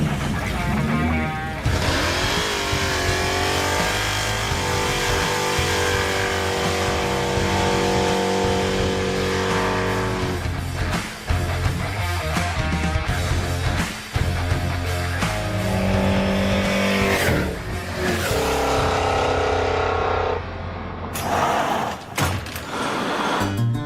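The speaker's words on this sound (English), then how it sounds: "It does better burnouts." A Pontiac T-37 roars through burnouts, the engine revving hard and loud with long squealing tire screech, brief drops in throttle and a final sharp burst as it lets off.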